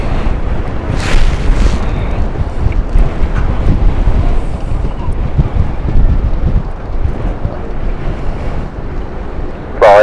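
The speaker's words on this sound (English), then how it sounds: "Whoa, that wind." Strong gusts buffet an outdoor microphone at an airport, producing loud, continuous low rumbling wind noise that swells and eases, with a brief whistling tone near the start and end.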